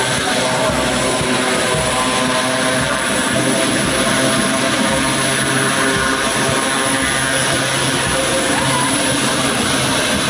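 An airplane engine roars loud and continuous, a dense, unbroken drone with a low hum underneath that holds steady throughout without fading.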